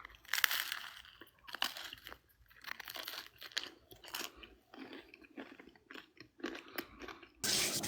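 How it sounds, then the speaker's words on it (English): Someone chews food close to the microphone, with loud crunchy bites and wet mastication repeating irregularly over several seconds, with no talking. "And yes, chat, I'm going to chew again."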